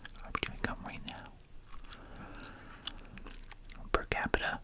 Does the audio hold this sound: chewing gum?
yes